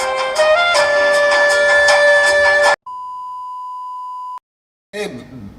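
A telephone emits one long, steady electronic beep lasting about a second and a half, preceded by loud music and followed by silence and then a burst of other noise.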